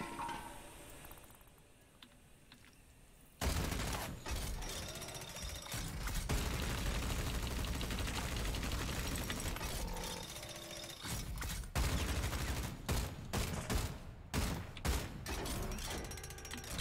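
Automatic assault weapon fire in a video game: after a quiet start, a long dense rattling burst of rapid shots hammers on loud and close, with brief gaps and renewed bursts near the end.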